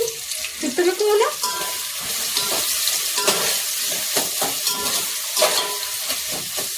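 Onions frying in hot oil for a biryani, a steady broadband sizzle with stirring clatter and bursts of watery splashing throughout, no voices over it.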